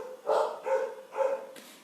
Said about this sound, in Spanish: Tenemos perritos de fondo